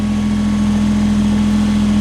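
A Kubota BX23S tractor's hydraulics strain steadily to lift the backhoe cylinder, giving a loud, constant engine drone with a strong sustained hum that holds without a break.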